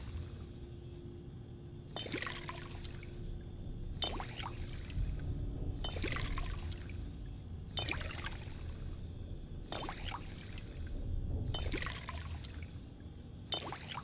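Water is poured to fill bottles in Fallout 4, heard as seven or so repeated bursts of splashing and trickling about two seconds apart over a quiet hum.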